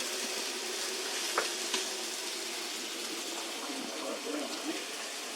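Pork chops cooking on a Cobb barbecue give off a soft, steady sizzle, with a couple of faint sharp pops, heard fairly quietly and alone.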